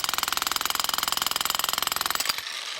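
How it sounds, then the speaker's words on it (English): A cheap demolition hammer breaks rock outdoors with a loud, rapid, steady hammering that pounds for over two seconds before cutting off abruptly into quiet. "this demolition hammer handled it with ease"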